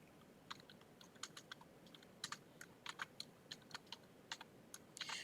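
Fingers type on a computer keyboard in MS Word, producing quiet, irregular key clicks in short bursts over a faint room hiss, with no talking.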